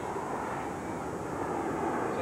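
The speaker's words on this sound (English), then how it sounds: "Sounds like Shea Stadium here tonight with the planes flying overhead" Airplanes fly overhead at a night high school football stadium in 1987, a steady broadband roar of engine noise filling the air without letup.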